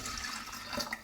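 Water pours steadily into a Thermomix TM5 mixing bowl, a continuous splashing, gurgling stream heard up close for about a second with no talking.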